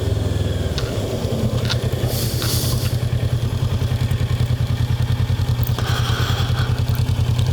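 A Kawasaki Versys 650 under way through a turn, its engine throbbing in a loud, steady rhythmic pulse close to the rider, with wind rush and faint clatter layered over the drone.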